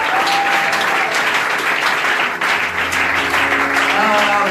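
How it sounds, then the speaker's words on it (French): A church congregation at an evening prophetic service applauds loudly and continuously, a dense wash of clapping that fills the room and holds steady throughout. "Non, acclamez très fort pour le Seigneur."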